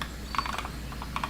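Keys tapping on a computer keyboard in a short, uneven burst of close clicks, with a steady low hum underneath.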